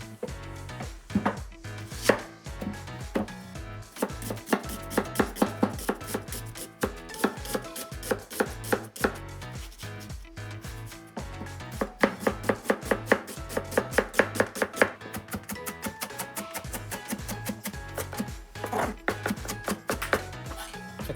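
A kitchen knife finely minces garlic and onion on a cutting board with rapid, rhythmic chopping in repeated bursts and brief pauses between them, close and crisp.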